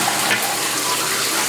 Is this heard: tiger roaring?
no